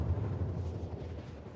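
An explosion in the video game Star Citizen, a deep, rumbling low boom that fills the moment and fades slowly, heard alone without talk.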